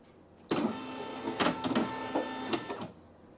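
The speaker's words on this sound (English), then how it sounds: "Now the embroidery hoop's going to move" A Brother PE-900 embroidery machine drives its hoop into position with a steady mechanical whir and a few motor bursts, close and alone, lasting about two and a half seconds.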